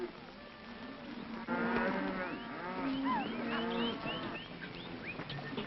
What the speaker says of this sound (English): Crowder, turn those cows